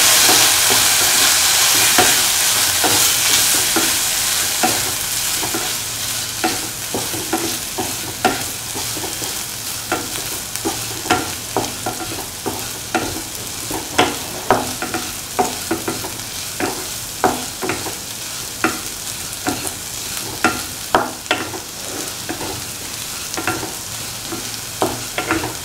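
A spoon stirs fried potato pickle with apple cider vinegar, producing a steady series of soft wet scrapes and light clicks over a faint sizzling hiss that fades out early.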